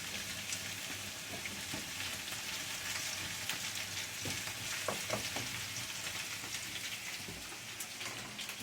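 Eggplant and zucchini frying in oil, a steady dense sizzle and crackle throughout, close and even, with occasional faint clinks of a utensil.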